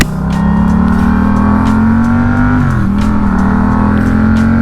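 A motorcycle accelerating while ridden, its engine a loud, steady close-up drone whose pitch climbs, dips briefly, then holds, with wind noise over it.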